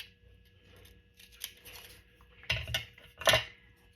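Scissors snip through paper while a journal card is trimmed, a few quick, close cuts heard in short bursts after a quieter stretch of faint handling.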